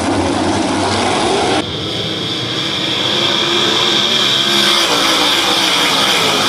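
World of Outlaws sprint cars in a heat race at Attica Raceway Park, a loud, continuous engine roar with a sharp change early on and a steady high-pitched whine that swells toward the end.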